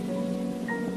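Steady rain hiss in an animated Hindi story, continuous and even throughout, with a faint tonal hum underneath and no talk.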